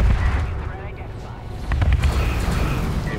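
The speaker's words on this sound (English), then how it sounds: "you get in range of those missile batteries for like 1 volley and you just die" A missile battery fires a volley in the Homeworld space strategy game, giving rumbling booms and bursts of impact that build and fade over a few seconds, with faint voices mixed in.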